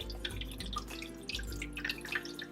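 Tap water runs and drips into a container being filled, a close, quiet trickle with scattered splashy drips and a low background hum.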